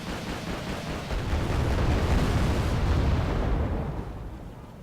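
A bomb explodes in the war strategy game Wargame: Pearl of the Orient, a loud, sustained rumbling blast that swells and slowly fades over several seconds, with no voices.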